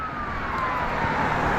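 An ambulance siren sweeps past on a street during an outdoor walk in Maine, a steady wailing tone gliding slowly downward over continuous traffic and wind noise, fairly loud throughout.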